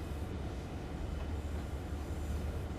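Train Sim World 2 EMD F7 diesel locomotive on the Clinchfield Railroad, braking while rolling backwards, gives a steady low rumble of rolling wheels and engine throb with a faint hiss on top, continuous and fairly loud, with no voices.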